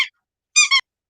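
A squeaky dolphin toy gives a short, sharp squeak, then a brief two-part squeeze a moment later, clear and close in an otherwise silent room.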